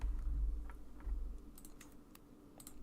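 Quiet tapping on a computer keyboard comes as scattered clicks and short bursts of keystrokes over a low background rumble, with no one speaking.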